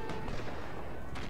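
Dense, continuous battle din of musket volleys and artillery fire from Napoleon Total War, steady and loud throughout with a sharper crack near the end.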